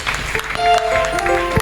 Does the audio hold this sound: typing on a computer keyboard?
no